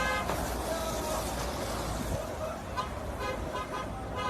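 Vehicle noise from a played video of a car chase, with a dense roar of traffic, engine rumble and horn-like toots running the whole time, with a voice faintly mixed in.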